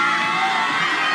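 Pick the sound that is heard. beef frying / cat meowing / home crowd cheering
home crowd cheering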